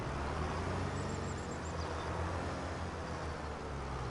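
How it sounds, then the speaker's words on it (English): A tractor engine idles steadily in Farming Simulator 25, a low constant rumble under a broad wash of noise, with no voices over it. "Oh man, I left my tractor running."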